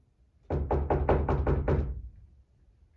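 Seven firm knocks rap on a door in a quick, even series, close and loud, then the sound falls back to a quiet room.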